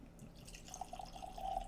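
A faint trickle of 17.5-year-old WhistlePig single barrel rye whiskey being poured into a glass. The quiet liquid sound swells toward the end over low room hiss.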